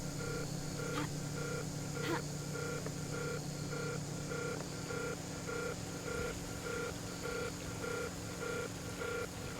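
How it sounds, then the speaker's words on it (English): A building alarm in a video game beeps in a steady, evenly spaced repeating pattern, faint and distant over a constant low ambient hum. "Why is there an alarm going off over there?"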